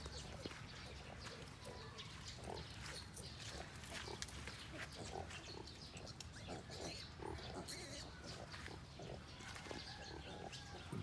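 Sows nursing their piglets in a farm pen, a dense, continuous chorus of grunts and squeals, close and steady, with occasional faint voices underneath.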